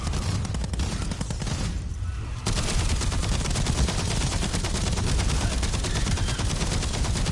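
Rapid, loud gunfire from a Call of Duty Black Ops 7 zombies match, dense automatic bursts running almost continuously with a short lull partway through.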